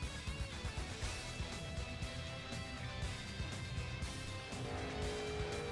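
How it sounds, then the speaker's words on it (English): Race cars roll onto the Daytona oval in Daytona Beach, Florida, for NASCAR Cup Series Daytona 500 practice in iRacing. Several engines drone and blend together at a steady level, with no talk heard. "cars pulling onto the racetrack here at Daytona in Daytona Beach, Florida"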